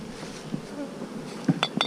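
Bees buzz steadily in a bee yard in the woods, a close continuous drone with a few brief louder passes near the end, no talk.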